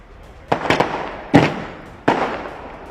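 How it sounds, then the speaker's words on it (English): Firecrackers go off at an outdoor celebration of election results: three loud, sharp crackling bursts, the first a rapid double pop, each fading into a noisy hiss. "So these firecrackers will go."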